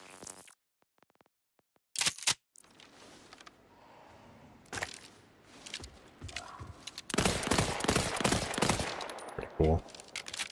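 Assault rifle fire in the video game Borderlands 4 comes in sharp loud bursts, with rapid repeated shots clustered near the end, separated by quieter gaps, and a person speaks briefly between them.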